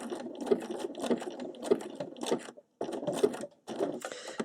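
A sewing machine stitches satin-stitch tulips in short bursts of a few rapid stitches. The motor's chatter stops briefly between runs while the needle stays down and the fabric is turned.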